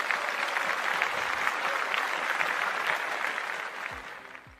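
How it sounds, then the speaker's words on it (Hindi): Audience clapping at a network-marketing gathering, a steady wash of applause that fades slightly toward the end, with a faint low thump near the close. "सभी उनके लिए एक बार जोरदार तालियां बजाएंगे"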